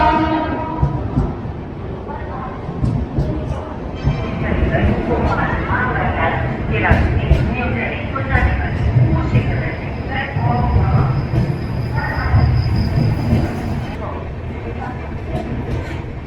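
Karnataka Express passenger train pulling out of Gwalior Junction, a loud, continuous rumble and rattle of carriages on the rails throughout, with a voice talking over it.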